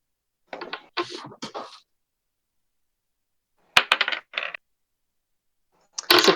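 Dice clatter and tumble across a hard surface in three separate bursts, a short rattling roll, then another, then a third beginning at the end, each crisp and close with silence between.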